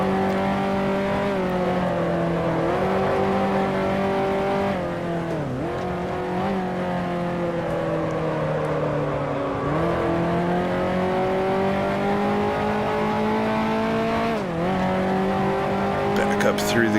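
A 1955 Formula One race car in Grand Prix Legends, engine note loud and steady, dipping sharply at several upshifts then climbing again, a continuous close-up drone with speech over it.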